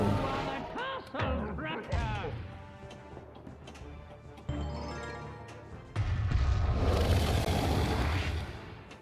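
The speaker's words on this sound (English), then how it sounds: "This is so cheesy the way the castle breaks up" Castle crumbling apart in the Shenmue video game, with heavy crashing and rumbling debris bursts that build into a dense loud roar near the end, under stretches of game music.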